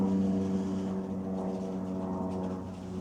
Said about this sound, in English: Okay, plane, you can fucking go by.